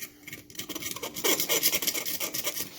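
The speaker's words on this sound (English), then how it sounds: "what I'm going to do is clean up all these mating surfaces. You just take a razor blade" A razor blade held at an angle scrapes gasket residue off the mating surfaces of a motorized bicycle engine, giving close, steady rasping strokes in quick repeated bursts that build in loudness, with no talking.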